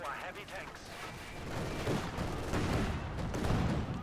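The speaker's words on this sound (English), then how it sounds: "Constantine there with a high explosive shell there." A high-explosive tank shell fires with a heavy boom in Company of Heroes 2, followed by rolling battle rumble and more gunfire while a commentator talks over it.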